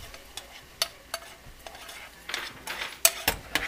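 Ground beef with gravy for shepherd's pie being stirred in a pan, with scraping utensil clinks and soft sizzling, intermittent and close.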